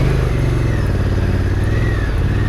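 A Honda NT1100 motorcycle engine runs at a steady, loud idle-to-low rev, with a constant deep throb and some mechanical clatter on a Lake District ride.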